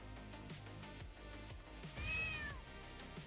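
A cat meows in the pixel-art video game Lia: Hacking Destiny, a clear rising-and-falling call near the end over a steady game soundtrack hum.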